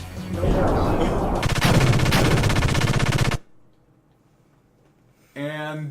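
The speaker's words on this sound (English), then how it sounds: "in cutscenes, Weltall has a gun, apparently." Rapid automatic gunfire from the Weltall gear in a Xenogears video game cutscene, loud and sustained for about three seconds, followed by near silence and then a short tonal game effect.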